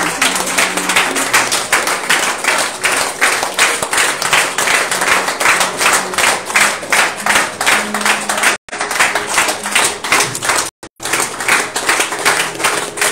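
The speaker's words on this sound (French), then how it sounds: "Est-ce que je peux voir des mains qui acclament parce que simplement ils ont reçu." A church congregation at a Friday worship service claps and cheers together, a loud, steady rhythmic applause that fills the room, with brief cut-outs near the end.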